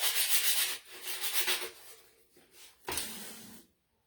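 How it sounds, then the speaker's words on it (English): Sandpaper rubs in steady, raspy strokes across the bottom of a painted spring decor piece, with several close, loud passes followed by one last short burst before it goes quiet. "I was going to sand the bottom just because I got a little paint on it that I don't really want on there"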